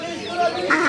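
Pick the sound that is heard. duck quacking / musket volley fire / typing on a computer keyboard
duck quacking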